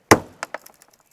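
A window breaker tool taps the corner of a Subaru Outback window once, a sharp crack of glass followed by several fainter tinkles of falling fragments, close and alone.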